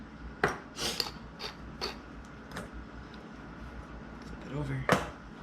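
Metal tongs clink and scrape against a cast iron pan while tuna is flipped, a few sharp, close clatters spaced apart, with a person talking throughout.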